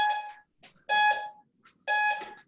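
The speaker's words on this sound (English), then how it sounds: "The timer just helps to keep us on track and keep us moving through at a good pace here" A workout interval timer beeps during a lower-body pump and abs session, three loud, even electronic beeps spaced about a second apart, with no voices.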